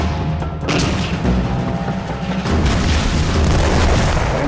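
Heavy booming of Israeli tank cannon fire at Syrian tanks, a constant loud rumble with new blasts hitting near the start and again partway through, no voices.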